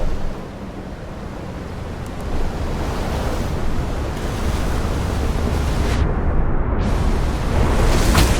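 Broad rushing ocean surf in the Outer Wilds video game, a steady wash of waves and wind that swells slightly louder toward the end, with no voices.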